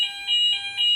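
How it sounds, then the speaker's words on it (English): A fire alarm sounds indoors with a loud, shrill electronic tone that pulses in a steady on-off pattern, about three bursts within a second, with no other sound. "this was the fire alarm that went on"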